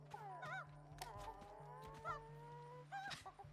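Chickens cluck and squawk in the Lego Horizon Adventures video game, a few scattered bird calls at low level over a steady background hum.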